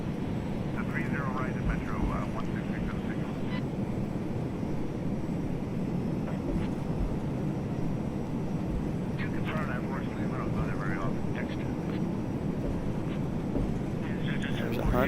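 Embraer Phenom 100 jet rolling for takeoff on runway 35 right in a flight simulator, a steady continuous engine roar held at even loudness throughout, with radio-style voices talking over it.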